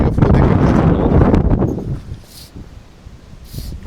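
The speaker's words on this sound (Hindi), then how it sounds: "बहुत हवा, एक्सट्रीम हवा चल रही है आज" Strong, extreme wind gusts roar past a microphone beside the fast-flowing Ganga in Rishikesh, loud and buffeting at first, then easing into a softer rushing hiss.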